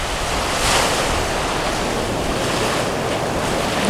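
Waves wash ashore at Loblolly Bay beach beside a reef, a dense continuous roar of surf mixed with gusty wind buffeting the microphone, loud and steady.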